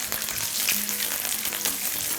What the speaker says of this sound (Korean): 이렇게 요 국물을 이용해서 여기다 계란을 그냥 깨서 넣으세요